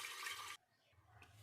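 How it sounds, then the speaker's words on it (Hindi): Water rushes into a pressure cooker holding dal and rice in a loud, splashy pour that stops abruptly after about half a second, leaving faint residual trickling. "इसमें 1 कप हम लोग पानी ऐड करेंगे"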